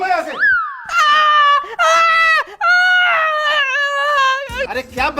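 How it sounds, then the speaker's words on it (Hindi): A grown man screams and wails in a high, childlike voice, in several long, loud, quavering cries with brief breaks, close up, with a little talk mixed in during a comedic scene about getting an injection. "अरे क्या बच्चों की तरह चिल्ला रहे हो?"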